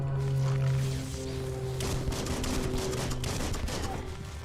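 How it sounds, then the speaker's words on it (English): Rapid bursts of gunfire in the video game Biomutant, a dense crackling fusillade over steady game music, with a voice briefly talking underneath. "What are you shooting at?"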